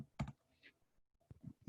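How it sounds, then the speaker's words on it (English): A few quick bursts of clicks from typing on a computer keyboard, faint and close, separated by short pauses. "I'm sure you guys can see me typing"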